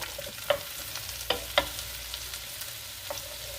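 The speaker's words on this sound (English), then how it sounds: "We just want to get that butter nice and melted. I'm going to go ahead and put that pack of mushrooms in." Sliced mushrooms frying in melted butter in a pan, a soft steady sizzle with a few sharp clinks and stirring knocks scattered through it, close and fairly quiet.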